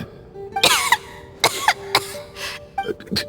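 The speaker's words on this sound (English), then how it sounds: "How long have you had that cough, Tonya?" Several harsh coughs in short bursts with pauses between, close and fairly loud, with a faint steady tone underneath, from the video game Genshin Impact.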